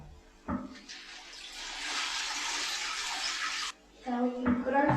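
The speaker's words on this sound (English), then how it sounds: "Now we can put our feet in the water" Water splashing and rushing as feet go into a lukewarm salt foot soak basin, a sustained broad hiss of moving water lasting a few seconds, close, with a voice speaking before and after.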